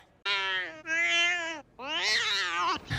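A cat in a film meows three times, long drawn-out cries with short gaps between them, loud and close. The last call rises into a strained, wavering wail.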